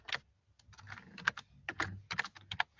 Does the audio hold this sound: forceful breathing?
no